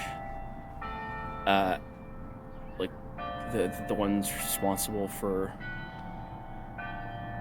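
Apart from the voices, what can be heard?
bell ringing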